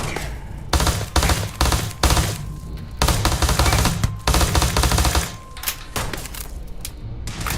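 Automatic and rapid gunfire in a Starfield firefight, loud and close, coming in dense bursts with brief gaps between them and continuing across the whole stretch.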